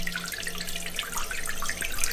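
Water gushes from a spigot at a house, a steady, close splashing rush with bubbling and dripping texture that holds constant throughout.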